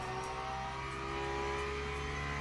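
An old Porsche's engine drones steadily on a racetrack under hard acceleration, loud and close with sustained tonal whine and no pauses.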